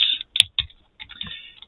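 Bursts of typing on a computer keyboard, close and clear, several quick clusters of key clicks separated by short pauses, with no voices.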